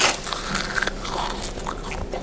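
A child biting and chewing a crunchy seaweed snack, close crisp crunches and brittle cracks in an uneven rhythm over a steady background, with no speech.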